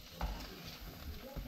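Butter sizzling in a pan while a burger cooks, a continuous hiss and crackle with scraping stirs, close and steady, with some talking mixed in.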